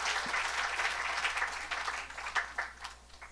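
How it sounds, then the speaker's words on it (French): Congregation at a French-language evangelical church service applauding and cheering, dense crowd clapping with scattered shouts, steady and fairly loud throughout, no speech over it. "Est-ce que tu peux acclamer pour Alpha et Omega?"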